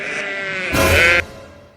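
A sheep bleats twice, a wavering nasal call followed by a louder, fuller second bleat up close, then fades; a young newborn lamb is nearby in a Eid livestock setting.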